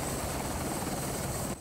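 A Guardia Civil rescue helicopter over the Sierra de Gredos mountains makes a loud, steady, close rotor roar with a dense rumbling chop, then cuts off abruptly at the very end.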